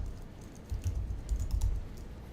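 A file title being typed on a computer keyboard, a quick run of soft, close key clicks in a short burst, with no talking.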